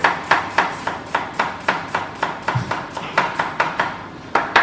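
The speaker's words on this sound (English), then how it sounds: "Turn it sideways and just tip of your knife on the board and just rolling that with the claw grip" Knife chopping an onion on a cutting board, tapping in a steady rhythm of about three crisp strikes per second, close and clear with no talking.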